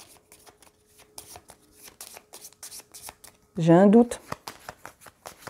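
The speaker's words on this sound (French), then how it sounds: "je mélange ma défausse parce que je ne peux pas en piocher assez" Dune Imperium cards from a discard pile are shuffled by hand in quick, crisp rapid bursts of riffling, close and clear, broken briefly by a short spoken remark.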